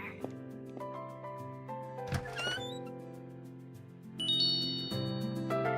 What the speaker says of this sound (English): The little music chimes for them is adorable.